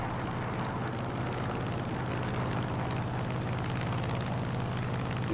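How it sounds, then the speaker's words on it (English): A jet aircraft in Microsoft Flight Simulator gives a steady, loud, broadband engine roar that holds evenly for several seconds without pauses. "Oh, I hear another jet."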